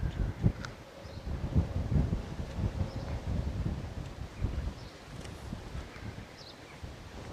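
Strong wind gusting outdoors at Moorlands Farm Fishery during a fishing match, a steady roar of buffeting and rustle against the microphone, with a few faint knocks and no talk.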